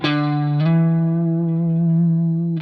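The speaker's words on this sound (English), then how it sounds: "it sounds very good if you slide up from the 5th fret to the 7th fret, like this" Sustained distorted electric guitar note that slides up from the 5th fret to the 7th fret, rings steadily, then is picked again at the end.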